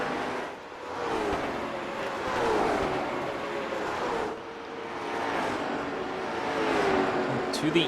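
Race cars in the RC Cola 150 Challenge at Nashville Fairgrounds Speedway drone past. Engine tones rise and fall in waves of revving, with an excited commentator talking over the roar.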